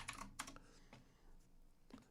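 Quiet keystrokes on a computer keyboard, a few distinct clicks in an uneven rhythm with pauses, close and faint.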